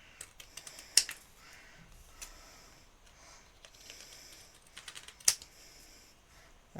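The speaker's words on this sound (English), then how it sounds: "Long scissors with a longer blade makes this so much easier than a short one." Long-bladed scissors cut freehand through crafting card, a string of small ticking snips with two sharper, louder closing clicks and quiet pauses between them, no talk.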